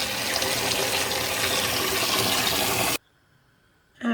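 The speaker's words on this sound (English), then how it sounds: "what you then do is rinse the beans off. Rinse it thoroughly, make sure it's nice and clean" A tap runs in a steady, loud gush as beans are rinsed in a kitchen sink for about three seconds, then cuts off abruptly, leaving near silence before a faint clatter.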